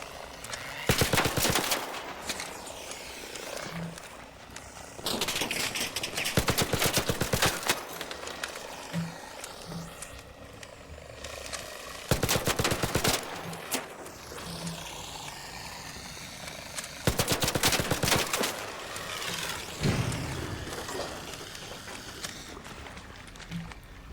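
Repeated bursts of rapid video game gunfire from a weak in-game gun in Arc Raiders, loud and close, in several long volleys separated by quieter gaps with background game ambience.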